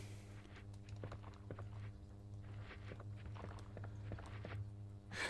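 Soft, muffled footsteps tap in a steady walking rhythm over a low droning ambience in the video game Resident Evil 2 on the N64, quiet and continuous with no talking.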